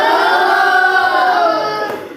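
A classroom audience of students cheers loudly as one voice during a group's media literacy presentation. The sustained, blended shout holds steady for about two seconds, then fades away at the end.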